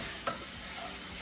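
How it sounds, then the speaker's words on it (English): Chili and garlic mixture stirred and frying over medium heat in a pan, making a steady soft sizzle with a brief scrape of the stirring utensil, no talk. "Keep moving the chili and garlic mixture so you ensure that they are not burnt, and we're cooking over medium heat"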